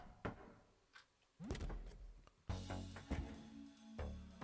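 A door opens in the video game Look Outside, with a few soft thunks and clicks followed by a louder swell of game sound as it swings open, no voices present.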